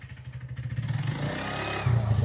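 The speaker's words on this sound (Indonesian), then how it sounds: "Motor masuk ke dalam makam guys" A motorcycle engine rumbles and revs as it rides slowly into the tomb grounds of the first Grand Sheikh of Al-Azhar in Egypt. It stays steady and close, with a low throb that swells near the end.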